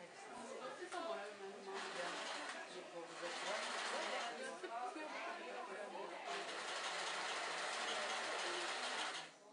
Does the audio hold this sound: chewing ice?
no